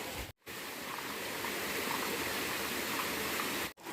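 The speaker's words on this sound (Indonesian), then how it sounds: "jalan kebun kita harus melewati sungai juga di sini, sungai kecil" A small river stream flowing along a garden path, a steady close rush of water that holds evenly throughout with no voices.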